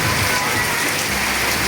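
Heavy storm rain pours steadily on surfaces during a lingering monsoon, a dense, unbroken hiss that stays loud and even throughout with no voices.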